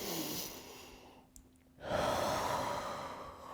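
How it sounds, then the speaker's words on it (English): A slow, deep breath is taken in during a strength-flow exercise, then let out in a long, audible sigh, close and soft, with no talk over it. "Just one nice deep breath."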